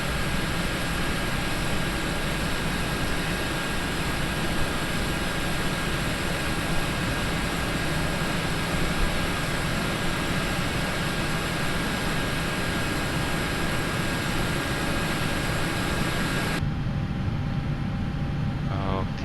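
Airbus A319 jet engines in a flight simulator idle at the gate as a loud, steady roar that fills the whole stretch and cuts out abruptly near the end.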